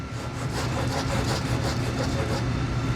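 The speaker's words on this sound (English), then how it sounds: "I want to sand this edge." A sanding block is worked flat along a car body line edge, giving a steady, close, continuous abrasive rasp in rapid strokes with no pauses.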